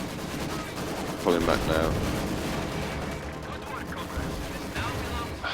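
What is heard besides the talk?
machine gun fire in a strategy video game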